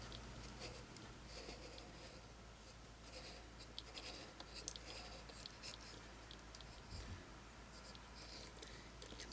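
A marker pen draws lightly on fabric, producing very faint, soft scratchy strokes close by in a quiet room, with no talking.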